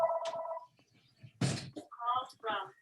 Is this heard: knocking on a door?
no